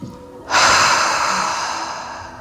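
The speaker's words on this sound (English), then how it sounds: "take the deepest breath you've taken all day" A single deep, loud breath drawn in sharply during a core-focused yoga practice, then released in a long, steady, fading exhale, close and clear with nothing else around it.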